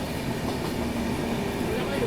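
Poorvottar Sampark Kranti passenger train running on its tracks, a steady close rumble and rattle inside the carriage with faint background voices throughout.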